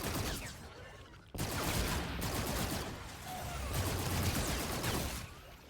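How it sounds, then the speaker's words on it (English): Sustained machine-gun fire from a Call of Duty: Infinite Warfare zombies game roars in dense continuous bursts, with a brief break before the firing resumes loud and steady through the rest. "I do have this big machine gun"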